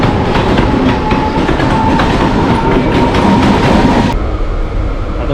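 A Mumbai local train rolls along at speed, a loud, continuous rumble of wheels on rails with rhythmic clickety-clack and a faint tonal whine, the noise dropping slightly toward the end.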